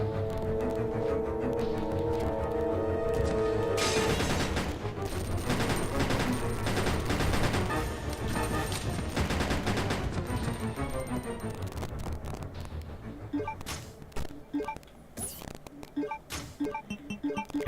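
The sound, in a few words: gunfire at a zombie in video game Resident Evil Code Veronica X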